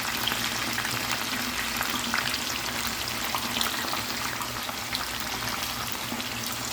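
Oil frying in a pan for maqluba, a steady dense sizzle that holds at an even loudness throughout with no talking.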